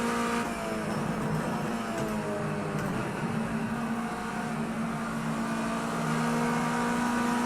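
Race car engines in Project CARS 2 at Donington, a continuous loud close drone of high revs with faint shifting tones as another car closes from behind.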